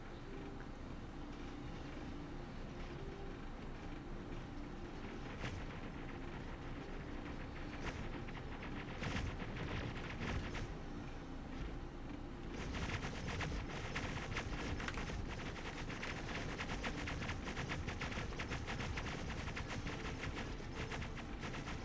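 Point defense guns fire steadily in a space video game, a dense, continuous rattle of rapid shots that grows louder and thicker partway through, with no talking.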